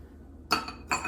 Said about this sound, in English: just add 1 ice cube in it